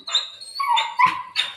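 A house guard dog gives a quick run of three or four high, whining yelps and short barks, close and fairly loud, with brief gaps between each call.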